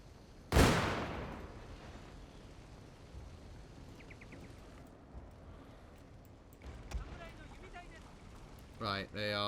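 Teppo matchlock guns fire in Shogun 2 Total War as one sharp, loud shot that rings out and decays, followed by scattered fainter pops and battlefield clatter, with speech toward the end.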